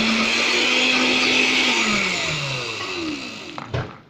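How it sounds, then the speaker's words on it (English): A kitchen blender whirs steadily at high speed, puréeing cauliflower with butter and whipping cream, its pitch shifting slightly before it winds down and stops with a couple of clunks at the end. "I'm just blending it up"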